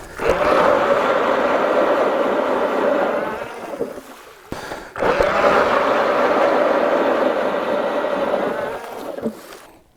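An ice auger drills a hole through frozen lake ice, grinding loudly and steadily in two long bursts separated by a short pause, close and without talk.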